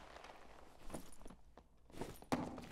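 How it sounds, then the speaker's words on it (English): Footsteps in the dungeon-crawler game Dark and Darker, a soft scuffing tread nearby that steps along for a few seconds, ending with a sharper knock. "I do hear footsteps right off the rip beside me"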